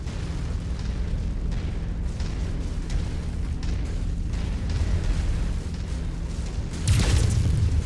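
Explosion of a destroyed target in MechWarrior 5: Mercenaries, heard as a loud sustained roar of rumbling blasts over a mechanical hum, swelling into a bigger burst near the end.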